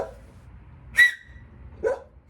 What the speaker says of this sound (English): He barks just to bark